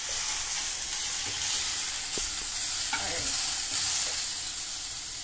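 Pad Thai ingredients frying in a pan: a continuous close sizzle with occasional stirring scrapes, and one short spoken word over it.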